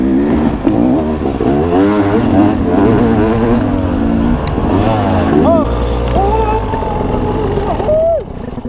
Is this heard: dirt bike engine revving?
yes